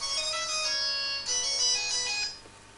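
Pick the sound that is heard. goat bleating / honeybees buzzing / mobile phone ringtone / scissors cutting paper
mobile phone ringtone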